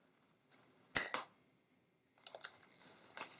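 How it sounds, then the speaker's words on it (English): Scissors cutting a burlap wreath swag piece: a couple of close crisp snips, then a burst of quieter rustling, scraping clicks of fabric and blades, faint and intimate with no speech. "I'm just going to cut off this bottom piece because it's just a little bit too long"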